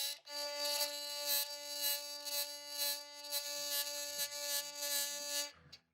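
A buzzing string on a stringed instrument in Sea of Thieves gives a steady, nasal, rattling drone with a rich stack of overtones, held for several seconds before cutting off.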